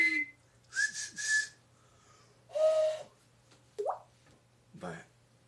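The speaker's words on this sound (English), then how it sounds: "I'm trying to wolf whistle." A person attempts a wolf whistle in a few separate tries, thin breathy whistles with rising and falling slides, some faltering, close and fairly quiet with pauses between them.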